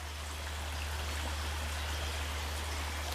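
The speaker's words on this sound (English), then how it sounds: "A little bit of a brook there" A small brook runs through a cellar, its water cluttered with modern rubbish, giving a steady, close rushing wash with no break and a low hum beneath.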